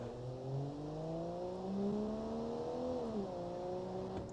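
A car's engine in the BeamNG driving game hums and winds down steadily as the car brakes from speed, quiet and continuous with no voices.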